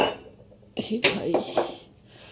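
Metal kitchen vessels clink and knock as they are set over dishes of food to cover them, a few bright, close clatters in quick succession after a quiet moment, with no speech.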